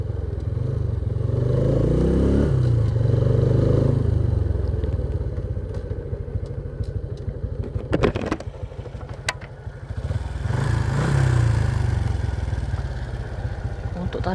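Custom SND-block motorcycle with FCC clutch plates running during a test ride: the engine chugs in a low, rumbling pulse that swells and eases, with clanks and scrapes partway through and talk likely mixed in.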